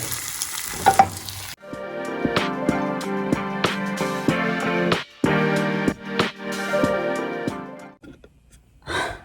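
An egg sizzles and crackles loudly in a hot frying pan, with a steady busy fry broken by short pauses and scraping stirs. No one speaks.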